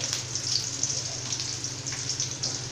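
Chopped onion sizzles in hot oil with popped mustard seeds and urad dal, a steady close crackle and hiss for sambar with no talking.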